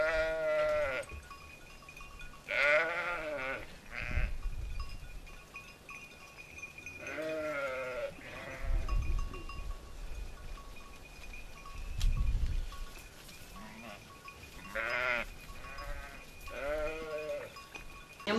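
A flock of sheep and goats in Cardanha, Portugal, bleat repeatedly, several loud nasal calls from different animals near and farther off, spread out over soft rustling background.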